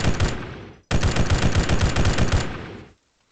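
Automatic rifle fire in Arma 3 with a Halo mod comes as two close, loud bursts of rapid rounds, a short one and then a longer sustained string, ending abruptly in silence.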